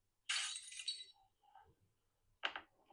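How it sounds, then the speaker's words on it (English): Glass shatters in a bright, close crash, with a few quieter tinkles, then a second shorter shattering burst, all against silence. "the idea is you get the sound effect, and then you see the glass there"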